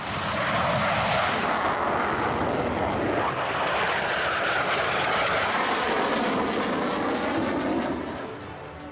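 Rafale multirole fighter jet roaring loud and steady, a broadband engine rush that swells slightly and holds for the whole stretch, close and unbroken, with no voices.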